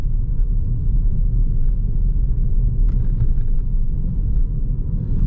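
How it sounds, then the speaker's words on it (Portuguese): Car cabin rumble while driving over bumpy road on a non-sporty platform, a loud continuous low roar with a few faint metallic clinks from bottles rattling inside the car. "Esses barulhinhos mais metálicos aqui são das minhas garrafinhas que estão aqui no carro"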